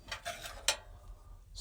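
A spoon is set against magnets under the range hood of a Northern Lite truck camper, making a few light, close metallic clinks and taps spaced irregularly, with a sharper click at the end.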